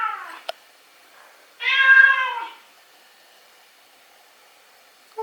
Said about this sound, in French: Here's a cat sound.